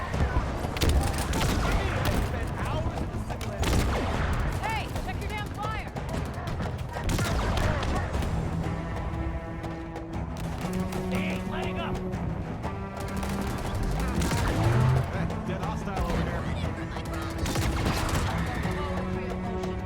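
Gunfire in the video game Halo Infinite, dense bursts and volleys repeating throughout over a busy game mix with music and effects, loud and continuous.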